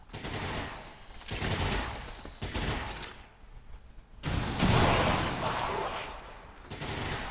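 Rockets fire in the modded video game XCOM 2, heard as several loud, harsh bursts of blasting noise separated by short pauses, each burst rumbling on for a second or more.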